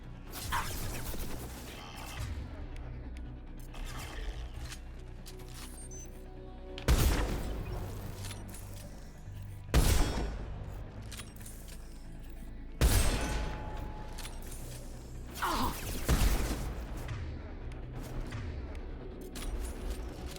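Gunshots ring out in the Mass Effect Legendary Edition video game: four sharp, loud bursts spaced a few seconds apart over a low, steady background of game ambience.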